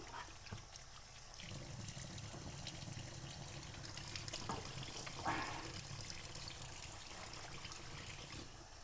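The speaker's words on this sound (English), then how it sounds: "So I'm going to wash my hands." Steady running tap water while hands are washed at a kitchen sink during Turkish eggplant kebab preparation, a continuous soft splashing hiss with small bursts of splatter.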